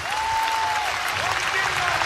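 Sold-out crowd at Haymarket Park cheering during a college baseball game between South Dakota State and Nebraska in the top of the eighth inning, a steady roar of applause with a whistle rising over it.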